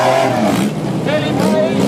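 A race car in a charity parade roars past with a rising and falling engine note, under continuous commentary from an announcer.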